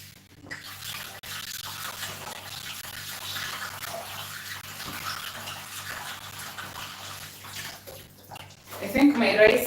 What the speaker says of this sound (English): I'm just going to wash this very quickly